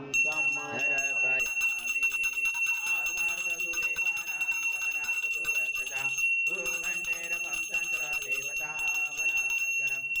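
A Hindu puja hand bell rings continuously through an abhishek ritual for Akkalkot Swami Maharaj, a bright sustained metallic tinkling that stays loud and steady beneath chanting and music.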